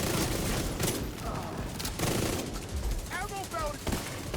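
Rapid bursts of video game gunfire aimed at a boss, dense and continuous through most of the stretch, with a voice talking underneath and a few tonal game sound effects near the end.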